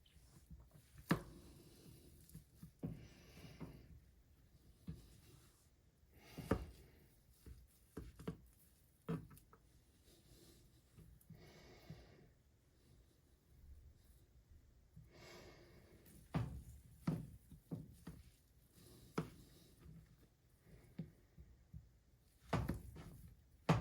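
Knife chopping food on a board in a home kitchen, sharp irregular thuds in quick bursts with pauses, close and fairly quiet, with breathy noise between strokes.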